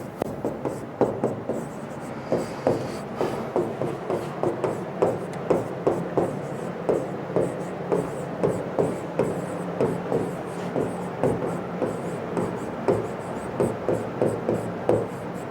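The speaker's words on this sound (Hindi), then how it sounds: "तो फिर वापस से मैं यहाँ पे अंग्रेजी वर्णमाला को लिख देता हूं।" Chalk or marker strokes on a teaching board as the English alphabet is written out letter by letter, with steady rhythmic scratching taps close by, unbroken for the whole stretch with no talk.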